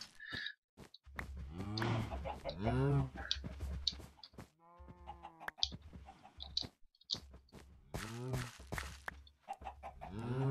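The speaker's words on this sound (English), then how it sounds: "Come on, chicken, hurry up and be canned." Farm animals in the video game Minecraft, with chicken clucks and cow moos in short repeated bursts, heard alongside someone talking.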